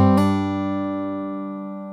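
A single hammer-on on fingerstyle acoustic guitar, the little finger striking the third fret of the B string in a song, heard as a quick second attack over ringing strings that sustain and slowly fade, close and alone.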